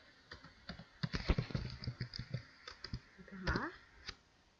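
Typing on a computer keyboard while entering text into a Microsoft Excel spreadsheet: a quiet, irregular run of clicky keystrokes in quick bursts, with a short cluster of louder taps near the end.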